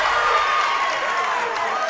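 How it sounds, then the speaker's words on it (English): A crowd at a high school girls' basketball game cheering loudly, a steady, dense roar that stays alone and sustained throughout. "Crowd is going wild here."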